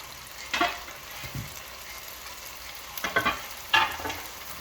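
Potatoes fry in bacon grease and butter in a pan, a steady sizzle broken by several sharp bursts of crackling and stirring scrapes, close and without talk.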